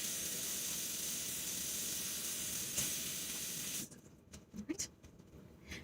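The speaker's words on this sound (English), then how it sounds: "we need to wash our hands" Water running from a tap as hands are washed in a garden kitchen, a steady loud hiss that cuts off abruptly, followed by a few small drips and handling sounds.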